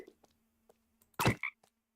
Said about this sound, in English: Is that a frog?